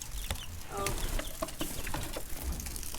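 Backyard chickens cluck close by as they file through a small chain-held door into their coop, with short overlapping calls over a busy, rustling background.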